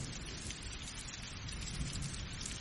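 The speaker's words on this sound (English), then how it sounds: "I will keep the thunderstorm on for you for a little while longer to help you sleep." Steady heavy rain pattering densely on surfaces with low rumbling thunder rolling underneath, a continuous, enveloping storm sound with no voices.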